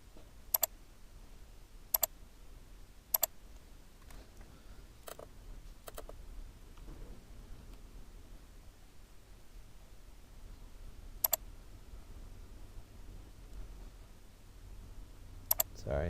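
Sparse, sharp computer mouse clicks during drafting work in Rhino, scattered singly and in pairs over a quiet room hum, close and crisp, with no speech.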